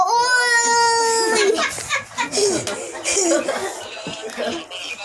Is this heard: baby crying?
yes